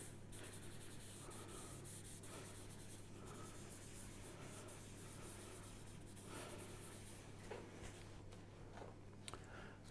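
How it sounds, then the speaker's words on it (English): Gentle circular rubbing and wiping over a surface, a steady soft scratchy friction running continuously and fairly quietly throughout, with no talking. "Just give that another gentle circular rub down and wipe."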